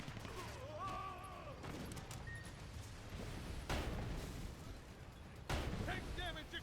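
Tank battle gunfire in the Sand Land video game: scattered heavy blasts and pops land irregularly over busy game noise, with voices and whistling effects in between.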